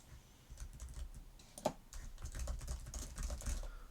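Computer keyboard keys pressed in quick irregular runs of soft clicks and taps, close and quiet, with no talking.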